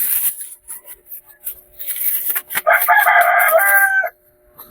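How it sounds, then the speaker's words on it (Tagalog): A rooster crows loudly and close outside, one long drawn-out call, after a stretch of scattered chicken clucks and rustling. "kung may makakarinig man kayo ng mga ingay-ingay sa labas, sa mga manok namin"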